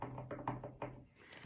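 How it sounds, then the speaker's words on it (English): Several hollow knocks and thunks as small objects are bumped over by sleeves on a tabletop, close and fairly soft, falling in an uneven run of about five hits before a brief rustle. "Kind of knocking stuff off with my sleeves here."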